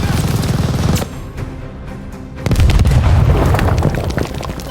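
A Call of Duty battle in which a grenade goes off against a machine-gun position. Loud booming blasts come first, then a brief quieter spell and another heavy burst, all over continuous gunfire with no speech.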